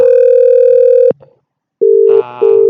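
A phone call placed from a 3CX softphone to a Zoiper softphone produces loud, clean steady electronic tones: one long tone, a short silence, then two shorter tones with a brief click-like burst between them.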